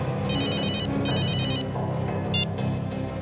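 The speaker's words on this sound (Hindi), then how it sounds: "फ्रेडी का फोन था।" A telephone rings in a tense detective drama scene, two electronic trilling bursts followed by a shorter chirp, heard over a dense, steady background music bed with no talk.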